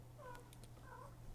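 A pet cat meows twice indoors, two short, soft calls a fraction of a second apart over a steady low hum, close by and fairly quiet.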